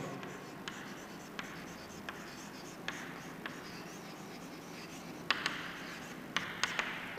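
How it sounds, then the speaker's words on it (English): Chalk scratching and tapping on a board during a physics lesson on capacitors, a steady soft scraping under room hiss, punctuated by small sharp taps as strokes begin and end. "So I'll write here expression for common potential."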